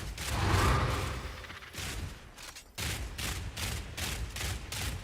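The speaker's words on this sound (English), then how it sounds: "I got a fucking burst rifle" Burst rifle fire in a video game: a loud opening volley, then a rapid run of evenly spaced short bursts, each a sharp cluster of shots with brief gaps between.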